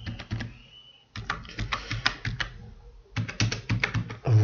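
Someone types a password on a computer keyboard: rapid, close clicking keystrokes in bursts, with a brief pause in the middle before another flurry of taps.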